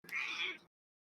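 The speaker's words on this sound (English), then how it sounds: "The cat approves." A cat gives one short, quiet meow, close and alone, lasting under a second.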